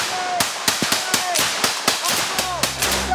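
Gunfire from French Foreign Legion soldiers assaulting an illegal gold miners' camp in the Guyana rainforest, a string of sharp, evenly spaced cracks ringing out over steady outdoor noise, fairly close.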